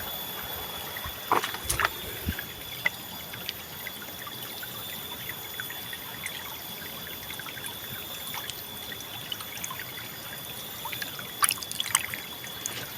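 Freshly foraged wild mushrooms are rinsed under running water outdoors, a steady soft trickle and splash with occasional sharper clicks and drips, fairly faint.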